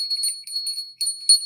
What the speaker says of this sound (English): I'm going to cleanse the space with the bell